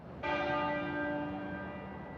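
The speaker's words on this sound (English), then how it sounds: "the tenor bell started to toll at 6 o'clock this evening" Tenor bell of Westminster Abbey tolls a single clear stroke that rings out and slowly decays, heard alone at moderate distance.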